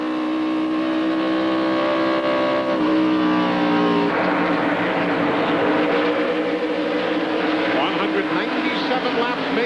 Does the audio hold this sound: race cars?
yes